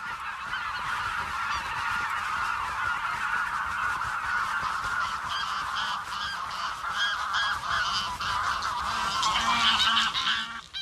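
Greylag geese honk continuously as a flock, with loud overlapping nasal calls that carry on for the whole stretch and grow busier toward the end, with no voices.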